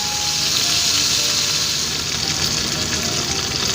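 Lamb burgers with rosemary fry in a skillet of oil, giving a loud, steady, close sizzle that holds evenly throughout with no pauses.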